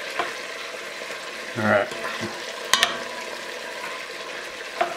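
Chicken pieces brown in a hot pan with a steady, even sizzle, interrupted by a brief stir or shuffle and a couple of sharp clinks. A voice speaks one brief word.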